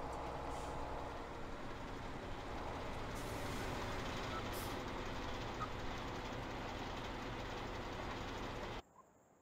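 A heavy truck in the Farming Simulator 17 game, its engine rumbling steadily and loudly for several seconds before cutting off abruptly near the end, with no voices.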